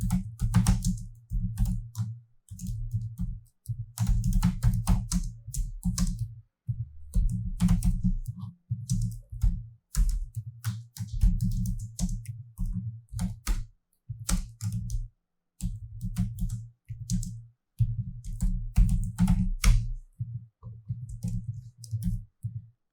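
Rapid bursts of computer keyboard typing while writing code, close and clicky, in uneven runs separated by short pauses.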